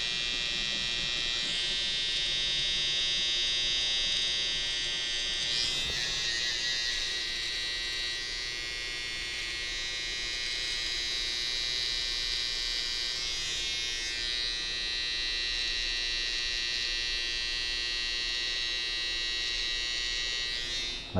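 An electric hair trimmer at a barber shop buzzes steadily and loudly close by while cleaning hairs off a customer's upper lip, with slight changes in tone as it moves across the skin.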